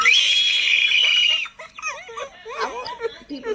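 A loud, shrill, sustained bloodcurdling scream from a daughter, held for over a second before breaking off, followed by quieter, broken vocal sounds.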